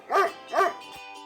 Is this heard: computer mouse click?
no